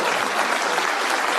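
A crowd at a political speech breaks into loud, continuous applause, a dense wash of clapping from many hands with no pauses.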